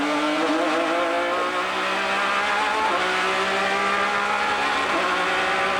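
Onboard engine of the Rand Racing Nissan Lola race car at a Grand-Am race at Fontana, a loud steady high-pitched drone with gear shifts and slight pitch dips, continuous and close with no talk.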